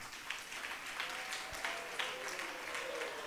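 Children clapping at a diocesan closing ceremony for Missionary Childhood Week, a steady patter of many hands heard at a distance and fairly faint, with some crowd murmur underneath.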